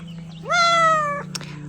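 A cat gives one clear, rising then level meow of about three quarters of a second, close and loud, followed by a brief click over a steady low hum.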